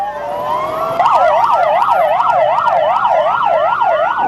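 Ambulance siren at a Red Crescent response during a protest in Rafah, Gaza: a loud, close wail that starts as a rising tone, then switches about a second in to a fast, steady up-and-down warble.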